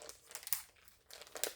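A large plastic storage bag is pulled open, giving two bursts of sharp, close crinkling separated by a brief quieter pause.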